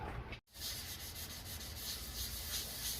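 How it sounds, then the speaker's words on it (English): Steady abrasive rubbing of sandpaper over body filler on a rusted-out 1951 Ford F1 truck under restoration, close and continuous, with a brief dropout near the start before the scraping resumes evenly. "Getting all this filler sanded."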